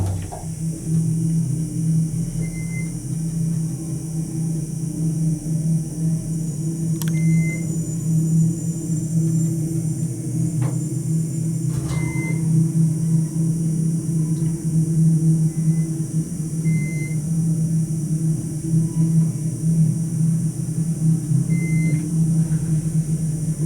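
A Westinghouse hydraulic elevator at a Holiday Inn in St. Louis, Missouri, descends with a steady low hum and drone from its hydraulic motor, broken by a few faint clicks and beeps across the ride, and nobody speaks.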